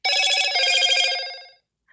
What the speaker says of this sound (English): I thought I'd turned my phone off on airplane mode.